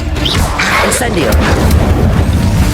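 A fire spell goes off in Hogwarts Legacy as a loud, dense roar of booming, crackling magical blasts that fills the whole moment without a break.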